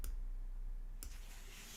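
Two short, sharp computer mouse clicks about a second apart, close and crisp over a steady low background hum, no talking.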